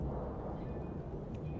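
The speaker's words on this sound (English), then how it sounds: "Ooh, thunder." Thunder in the video game Universe For Sale, a low, continuous distant rumble rolling steadily with no talk over it.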